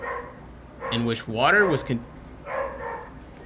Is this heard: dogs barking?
yes